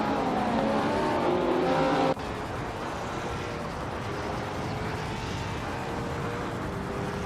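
A 1966 McLaren M1B race car's engine in a racing video game drones loudly and steadily, with a sudden drop in level after about two seconds, then holds a continuous, slightly quieter roar.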